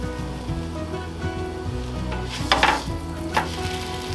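Irish cream French toast sizzles steadily in a hot pan, a constant close frying hiss with a couple of sharper crackles as the slices settle; no one speaks.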